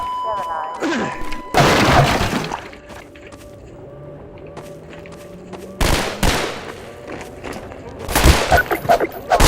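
Wooden boxes smashed in the Half-Life 2 video game, with sharp cracking bursts and crashes that come in loud clusters separated by quieter stretches of background game sound.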